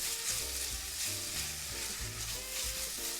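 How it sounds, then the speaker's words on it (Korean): Button mushrooms and olives stir-frying in a pan, giving a steady, dense sizzle that continues without pause over a faint tonal background. "이때 올리브 넣어줘서 같이 볶아주겠습니다"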